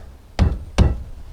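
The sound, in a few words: block of wood knocking deck railing into place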